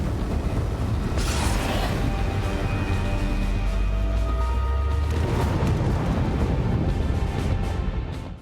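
A big explosion in the video game Borderlands, a dense, sustained roaring blast with rumbling low end and crackling debris that holds loud for several seconds before fading.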